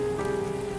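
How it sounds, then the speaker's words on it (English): Heavy rain pours down in a steady, dense hiss on a surface, with a constant hum underneath and no voices. "The relentless downpour drenched the roads as Jane journeyed to Netherfield"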